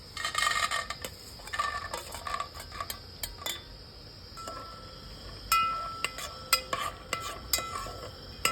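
Peanuts fry in a little hot oil in a pan, with a soft sizzle under repeated sharp metallic scrapes and clinks of a spoon stirring against the pan, close and uneven in rhythm.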